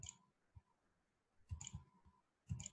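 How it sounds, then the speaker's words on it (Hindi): A few quiet, crisp keyboard clicks as Shift and arrow keys are pressed. They come in short clusters separated by near-silent pauses. "आपने एक ही दफा शिफ्ट को प्रेस करके रखना है और साथ इस एरो को क्लिक करते जाएंगे"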